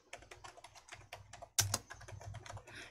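Keys tap softly and irregularly on a computer keyboard while a spreadsheet tab name is typed in, with one sharper, louder keystroke partway through and no voices.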